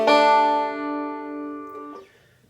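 A single banjo note picked on the third string at the second fret, ringing bright and close with a long sustain, then a soft second pluck near the end as it fades.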